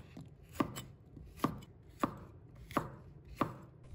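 A knife cuts a red chili pepper into roll-cut chunks on a cutting board, giving five crisp, evenly spaced chops that land close and clear against quiet kitchen background.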